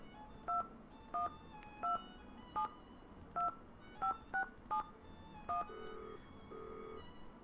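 Telephone keypad dialing in the Nancy Drew game Danger by Design, nine evenly spaced two-tone beeps followed by a couple of softer ringback tones.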